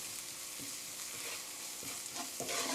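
Red pepper powder stir-fries in a pan as a steady sizzling hiss, with several soft scrapes of the spatula at irregular intervals and no voices.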